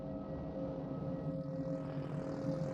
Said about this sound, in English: After more than 2 hours of flight, the plane lands in Munich